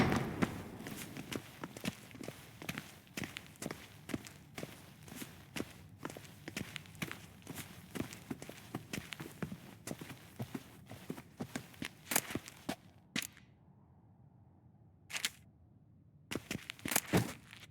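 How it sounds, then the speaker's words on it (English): Footsteps in The Witcher 3: Wild Hunt: a long, steady run of close, crisp steps at a walking pace that briefly pauses and then resumes with a few final steps near the end. "Footsteps."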